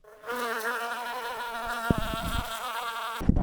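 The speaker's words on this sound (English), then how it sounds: "I'm looking at a mosquito right there." A mosquito buzzes close by in a continuous high whine, its pitch wavering as it hovers, with a few faint knocks and taps underneath and no talking.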